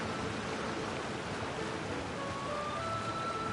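Steady broadband rush of a waterfall in the Genshin Impact game, a continuous, even wash of water noise with faint tonal game music lines drifting above it.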